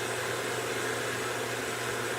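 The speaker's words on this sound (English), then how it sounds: "They suctioning out my AC unit." A vacuum suctions out an air-conditioning unit indoors, a loud, constant broadband roar with a steady hiss and no breaks, filling the whole space.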